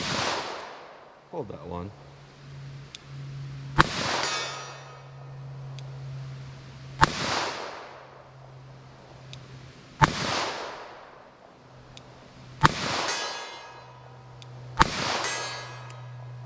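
Standard-pressure .38 Special rounds fire outdoors, five sharp loud cracks spaced a few seconds apart, each trailing a ringing decay, with a brief spoken remark between shots.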